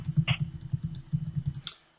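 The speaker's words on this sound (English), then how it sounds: "I was just typing out." Close, dull keystrokes on a computer keyboard tap out in a quick, uneven burst for about two seconds before stopping, with no one talking.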